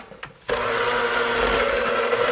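An electric hand mixer creams butter and sugars for chocolate chip cookie dough, kicking on abruptly after a short quiet moment and then running as a steady, loud, close whirring drone.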